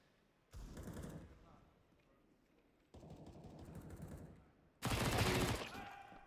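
Desert Eagle pistol shots in a Counter-Strike pistol-armor round on the Train map during a professional match, heard as three bursts of gunfire and clatter, the last loudest, under a caster's commentary.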